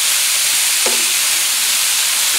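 Vegetables stir-frying in a pan with a little water and less oil, a constant bright sizzle and hiss with a brief soft clink of stirring near the middle.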